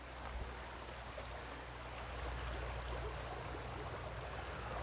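A stream flows steadily through an outdoor spot, a continuous broadband rush of water with a low rumble underneath, even and unbroken throughout with no talking.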